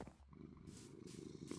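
A small tamed cat in the video game Minecraft purrs in a soft, steady low rumble, faint and close, with a few light ticks over it and no talking.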